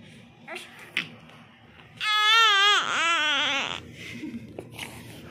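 A baby bursts into a loud, wavering wail lasting about two seconds mid-clip, preceded and followed by quieter room noise and scattered small sounds.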